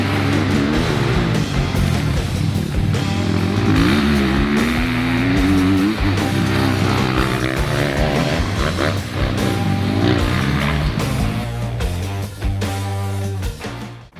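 A motocross motorcycle accelerates hard through a dirt corner, its engine revving loud and close with rising and falling pitch as the rider works clutch and throttle, the sustained roar continuing throughout.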